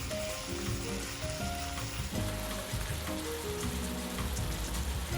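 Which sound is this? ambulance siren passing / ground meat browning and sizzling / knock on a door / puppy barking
ground meat browning and sizzling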